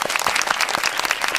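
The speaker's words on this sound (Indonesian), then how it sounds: "Boleh minta tepuk tangan dulu." Applause from an audience at an Indonesian talk event honoring a district prosecutor, dense steady clapping filling the short moment at close range without pause.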